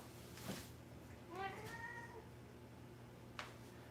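Jinky, an elderly 17-year-old white and orange cat, gives a soft meow over a low steady background hum, followed by a second brief drawn-out call; a short faint click comes near the end.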